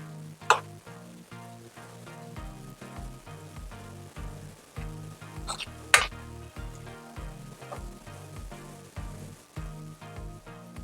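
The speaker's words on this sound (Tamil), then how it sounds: "இந்த மாதிரி மீடியம் ஃப்ளேம்ல வச்சு இந்த மாதிரி ப்ரௌன் கலரா வர்ற வரைக்கும் பொரிச்சுக்கலாம்." Gulab jamun dough balls frying in oil over a medium flame give a soft, steady sizzle with a few louder crackling bursts, heard close and alone over background music.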